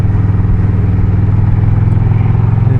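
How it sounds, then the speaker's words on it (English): A motorcycle ridden at a steady, easy pace, its engine droning close and constant with a low rhythmic throb and no voices. "This is a lazy bike to ride"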